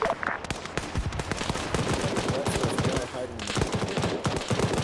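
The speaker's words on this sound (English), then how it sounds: "We're hearing this BTR fire out" A BTR armored vehicle fires its gun in an Arma 3 battle: rapid bursts of autocannon and machine-gun fire repeat continuously, loud and dense, with other gunfire mixed in.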